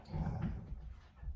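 Dogs in the Yukon, behind the person: a brief, close, low whimper and growl lasting about a second, with no talk.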